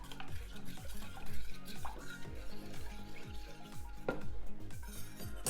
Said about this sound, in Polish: I teraz do garnka z wodą musimy wmieszać właśnie ten proszek, tą naszą galaretkę.